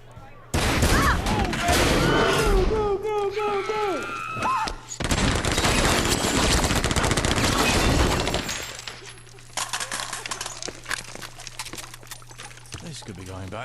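Dense bursts of gunfire and shattering impacts in the video game Saints Row 2 come in two long loud volleys, then taper into scattered quieter shots, with voices mixed in.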